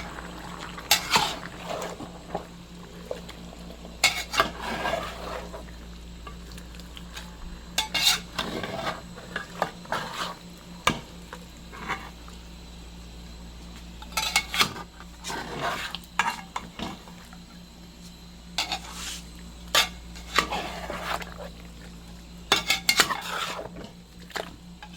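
A spoon scraping and clinking around a cooking pot as jeera is stirred, repeated bursts of metallic stirring every few seconds over a soft steady sizzle of frying.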